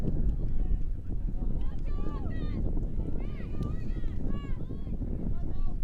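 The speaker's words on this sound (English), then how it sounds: "And the wind picking up." Wind gusts across an outdoor college ultimate championship game between Oregon and Stanford, a low rumbling buffet on the microphone under crowd noise and a commentator's voice.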